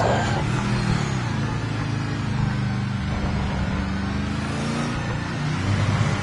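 A race car engine in the racing game Project Motor Racing roars steadily under acceleration, a loud, continuous engine drone whose pitch shifts slightly throughout.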